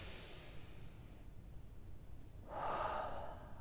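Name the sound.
deep breath in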